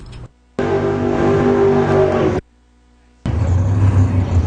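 An 850 nitrous oxide big block Chevy Camaro runs a Nostalgia Streetcar drag race final, with loud bursts of engine roar and revving broken by abrupt cuts to near silence, close and harsh.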